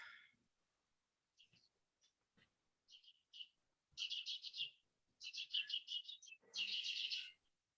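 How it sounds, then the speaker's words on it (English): Birds chirp and sing in short bursts, starting sparse and growing into rapid bright trills and tweets near the end, fairly close and with no voices over them. "Beautiful birds in the background."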